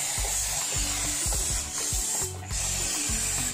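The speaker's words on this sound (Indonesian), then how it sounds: "Dan di sini kita akan semprotkan ke area bearingnya seperti ini." Cooling gas hisses steadily from a spray can onto the bearing area of a Vespa scooter engine, a loud continuous spray broken by a brief pause and overlaid with rhythmic low knocks.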